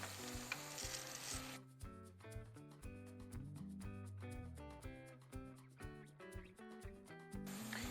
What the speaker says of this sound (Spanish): mientras se va cocinando la cebollita con el jamón